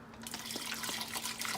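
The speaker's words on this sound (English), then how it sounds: "And then I will pour water." Water pouring steadily into a cooking pot of beans with lard, a close, continuous splashing gush with a faint low hum underneath.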